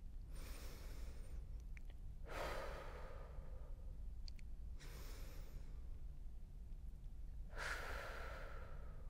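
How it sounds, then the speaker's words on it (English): Three slow, deep breaths taken during a seated yoga twist, each a long, soft, airy exhale heard close and alone over faint steady room noise. "We're going to take 3 big breaths before we change sides."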